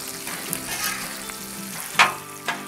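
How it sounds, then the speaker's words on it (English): Hash browns and bacon fry on a Blackstone griddle with a busy, steady crackle up close, broken by a couple of sharper scraping or tapping bursts from a spatula, with no talk. "Let's check these hash browns, see how they're crisping up here."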